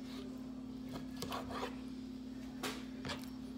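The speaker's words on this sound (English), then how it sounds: "I trim off all the skin and the fat" A slightly dull knife scrapes and rasps as skin and fat are trimmed off a chicken breast, with several short, close strokes over a steady background hum.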